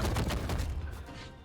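Explosive cannon shots burst out in a rapid, dense volley during a fast platform-fighter match built on gauntlet weapon trials. The bursts come loud and close, then thin out toward the end.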